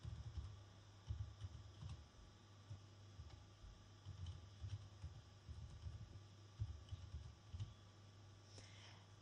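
Quiet, close computer keyboard typing in irregular bursts of clicking keystrokes over a faint steady hum, with no voices.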